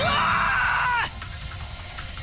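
A scream in the video game Kill/Cure: Beautiful Vice, a loud, shrill cry lasting about a second that bends upward and then cuts off, leaving a low background rumble.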